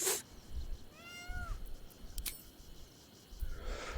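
A cat in Baldur's Gate 3 lets out a clear meow with a rising-falling pitch, set against quiet game ambience with a faint insect-like chirr and a couple of soft clicks.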